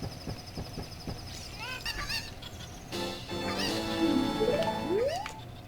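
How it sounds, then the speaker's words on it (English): A chicken in the video game Ocarina of Time gives a few clucks and squawks, followed by rising game sound effects, all fairly quiet with no talking. "Chicken!"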